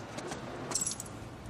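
Keys jangle in a couple of short metallic bursts over a steady low background rumble, fairly quiet and with no voices.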